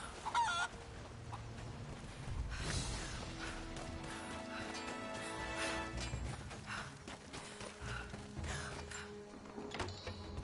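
Chickens in the video game Rise of the Tomb Raider, soft fowl clucks and squawks scattered over a quiet, busy game soundscape with faint background noises.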